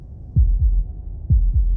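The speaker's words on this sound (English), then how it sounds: "That was the sound of a heartbeat," Two pairs of deep, muffled heartbeat thumps in a lub-dub rhythm, loud and close, from the game Slay the Princess, with no talk over them.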